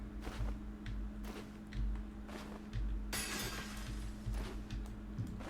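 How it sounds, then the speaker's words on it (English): A broken object crashes and shatters inside the game Deconstruction Simulator, with a bright burst of breaking glass and clinks over steady game background noise and faint footsteps. "Something just fell and smashed."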